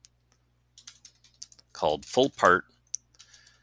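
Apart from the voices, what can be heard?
typing on a computer keyboard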